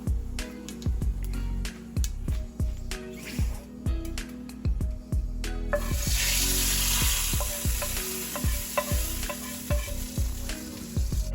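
Whole spices, including cumin, sizzle loudly in ghee during tempering, a constant crackling hiss that swells and then holds steady, with clattering stirring knocks throughout.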